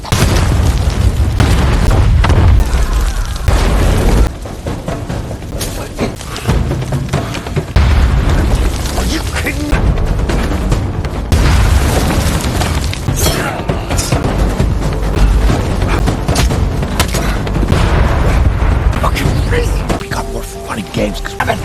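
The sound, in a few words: explosions from planted explosives in a film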